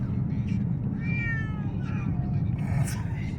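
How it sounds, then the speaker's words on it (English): Cats shut in a pet carrier meowing, a couple of high, drawn-out cries close by over a low rumbling background. "I feel like boy cats notoriously have pretty high-pitched meows."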